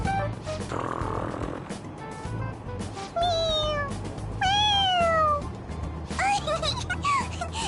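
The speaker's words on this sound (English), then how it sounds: "It meows when you press on its head." A squeezable toy cat from Persona 5 Royal meows several times in a row, with short, bright mews spaced over a few seconds, heard clearly above game music and ambient noise.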